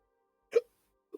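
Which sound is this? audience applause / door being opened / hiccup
hiccup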